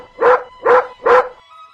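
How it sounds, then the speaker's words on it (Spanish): A dog barks three times at an even pace, each bark loud, close and full, with short quiet gaps between them. "está ladrando el perro"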